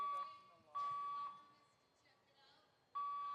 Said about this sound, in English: I'll keep talking over the alarm